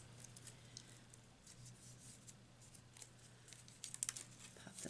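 Delicate die-cut paper pieces popping out of a card sheet give faint crisp ticks and soft crinkles, scattered irregularly over quiet room hiss, growing a little busier toward the end.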